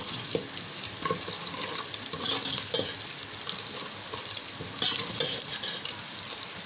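Garlic, red chili and turmeric fry in a pan with a steady close sizzle. A utensil scrapes and stirs at intervals throughout.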